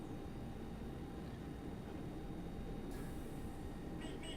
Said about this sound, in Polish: I teraz mamy charakterystyczny dźwięk piłowania główki szyny w zakrętach, który również w kolejnictwie jest bardzo charakterystyczny